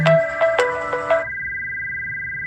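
A mobile phone ringtone plays a short bright electronic melody of several quick tones, then holds a steady sustained tone, fairly loud and close with no talking.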